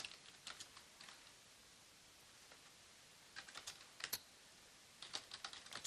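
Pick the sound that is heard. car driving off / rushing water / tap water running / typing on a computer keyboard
typing on a computer keyboard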